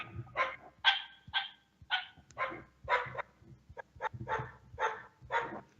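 A dog barks repeatedly in a quick, fairly regular run of sharp barks, close and clear with quiet gaps between them and no talking.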